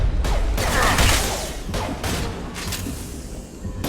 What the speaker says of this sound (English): Krogan charging.